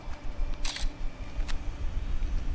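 A camera shutter clicks in Far Cry 4 as a photo is snapped, two short crisp mechanical clicks close together followed by a fainter third, heard alone against a quiet hum.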